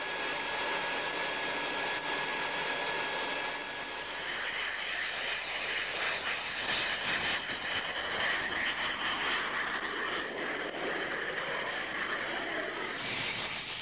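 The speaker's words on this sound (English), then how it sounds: "The Handley Page 115 is built to study low-speed flying." Handley Page 115 low-speed research aircraft in flight: a steady, broad engine roar with a thin whine, swelling louder and rougher midway as the plane passes, with no one speaking.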